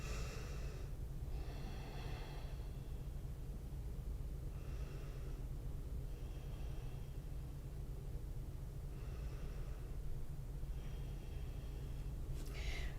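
Slow, steady breathing during a yoga class, repeated audible inhales and exhales roughly every two seconds, soft and close over a constant low background hum, with no talking.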